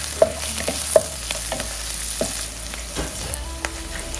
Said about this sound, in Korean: 대파를 먼저 넣어 볶아주고 다음으로 마늘을 넣어 볶아주면서 향을 올려줍니다.